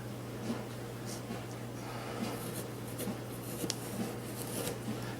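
A knife slices a carrot into planks on a cutting board, producing soft, faint scraping and light tapping cuts under a steady low hum.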